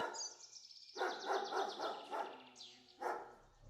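A pet dog named Sherry barks in a series of sharp, fairly clear yaps with short gaps between them, outdoors on a street, with no talking over the barks.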